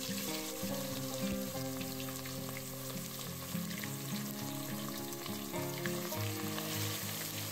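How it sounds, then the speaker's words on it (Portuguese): Steady, loud sizzling and crackling of chicken frying in hot oil in a pan, continuous throughout with no talking. "Enquanto o frango vai fritar numa panela"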